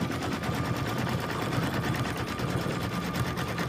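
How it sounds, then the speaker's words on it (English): An embroidery machine stitches out a chenille design with a fast, steady mechanical chatter, close and continuous for the whole stretch. "It's so fun to watch the machine run,"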